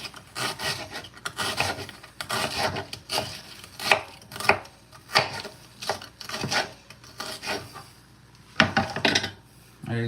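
A knife chops an onion on a cutting board in a home kitchen, giving a steady run of close, crisp strokes with short pauses between bursts.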